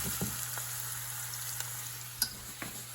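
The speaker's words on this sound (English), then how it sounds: "now we're gonna start frying the onions" Onions frying in a pan give a soft, steady sizzle with scattered small pops and light clicks, close by and without talk.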